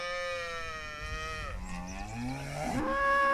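Cows moo loudly and repeatedly, long drawn-out lowing calls that slide downward in pitch, close by with no speech.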